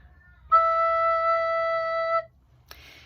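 A recorder sounding its low E note, one smooth, steady tone held for under two seconds, clear and close with light background noise and a small click afterward.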